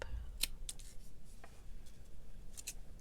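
Scissors cut through a paper envelope in a few quick, crisp snips spaced across a few seconds, close and quiet against a soft room background, with no talking.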